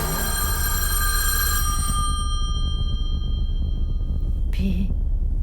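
An old-fashioned telephone bell rings late at night, its bright metallic ringing filling the first couple of seconds before decaying under a steady low hum, with a short second burst near the end.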